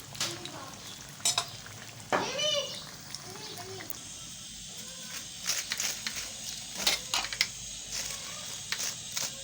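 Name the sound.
tikkis (potato patties) frying crisply in a pan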